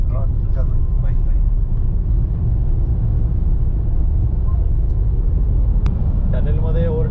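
A car drives through a road tunnel with traffic, giving a loud continuous rumbling roar that fills the space, with a short tone and a brief click near the end.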